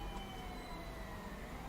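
A police car siren wails steadily in Grand Theft Auto, quiet and somewhat distant, with a continuous engine-like rumble beneath it.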